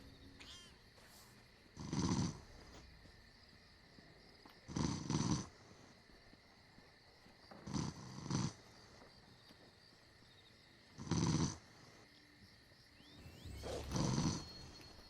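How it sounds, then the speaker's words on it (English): A man asleep on a microphone snoring during a live stream: five loud, rough snores at a slow, regular pace about three seconds apart, with quiet gaps between them. "I think there's straight up a dude who fell asleep on the mic. I mean, he's snoring."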